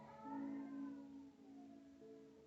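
Cat meowing and caterwauling in long, drawn-out wavering cries, fairly close and clear, with no talking over it.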